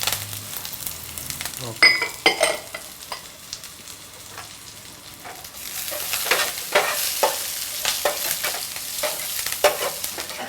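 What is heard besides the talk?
frying sliced shallots and curry leaves for tempering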